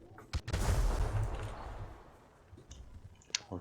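An explosion in the GTA roleplay game opens with a sharp crack, then a loud, heavy blast that rumbles on for over a second before fading, followed by a few scattered clicks.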